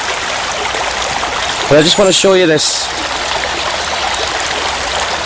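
White water rushing in a stream, a loud continuous hiss and roar that carries the whole time, with someone briefly talking over it.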